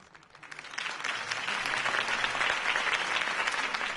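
A crowd in a Batman video game applauds a campaign speech for Harvey Dent, the clapping swelling in over the first second into dense, steady applause that holds fairly faint throughout.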